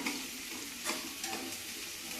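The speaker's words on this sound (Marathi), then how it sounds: "एकदाच फ्राय करून घे सगळा" Pumpkin and chili fry in a pan, a steady close sizzle with a few stirring scrapes and no talking.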